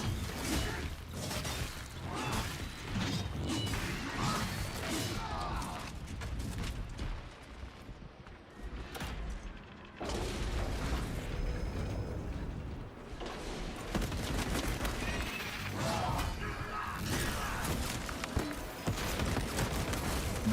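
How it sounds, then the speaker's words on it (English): A gun strike attack in the video game Space Marine 2: a dense, loud barrage of rapid gunfire and crashing impacts that runs almost nonstop, with a brief thinning in the middle before it surges again. "Gun strike ready to deploy."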